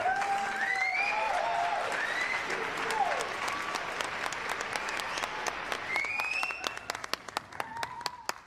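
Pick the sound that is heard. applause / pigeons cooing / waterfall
applause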